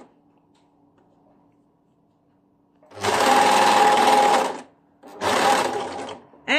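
Sewing machine stitches a tunic collar in two bursts, each a loud rapid whirring run of one to two seconds separated by a short pause, close up over a quiet room.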